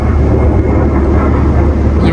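A fighter jet roars overhead outside a fish market in Greenland, a loud, continuous low rumble filling the whole moment with no break.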